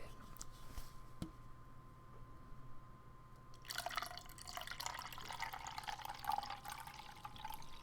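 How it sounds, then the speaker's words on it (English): A drink from a vending machine poured into a cup, a steady liquid pour starting partway through and running on to the end after a few faint drips, moderately close and unaccompanied by talk. "we'll pour it"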